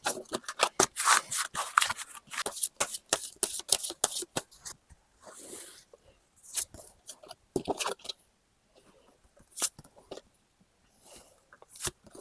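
Tarot cards being shuffled by hand, a quick run of crisp riffling flicks and slides close up, then sparser soft taps and brushes, with quiet gaps between.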